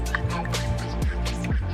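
Transmission fluid is poured from a quart bottle into a 2013 Chevy Suburban, producing a steady glugging, dripping liquid flow with repeated bubbling gulps, close and continuous.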